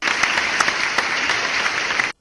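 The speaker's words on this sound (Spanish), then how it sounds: "Allí hubo aplausos" An audience applauds a speech to fellow citizens: dense, steady clapping for about two seconds at close range, then an abrupt cutoff.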